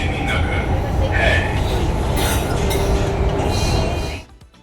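Delhi metro train pulling into Sarojini Nagar station: a loud, steady rumble of wheels and carriage with faint squeals and clinks, cutting off abruptly near the end.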